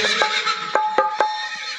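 A horse neighs in a long whinny amid a Nayka Banjara folk dance performance, with sharp percussive knocks cutting in at intervals over a sustained, busy background.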